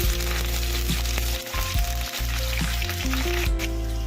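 Green chilies and curry leaves crackle and sizzle in hot oil in a pan after a batch of shrimp pakoda, a dense, steady frying hiss with a low hum underneath, close and continuous without talk.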